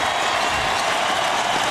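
Basketball arena crowd cheering and applauding steadily as the Lakers win Game 1 of the 2002 NBA Finals, a dense continuous roar of many voices and claps.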